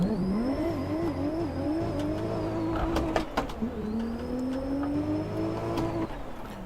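A 500HP Lexus GS300 in Assetto Corsa launching hard, its engine rising loudly through the revs with a rattling shift break midway before climbing again and cutting off.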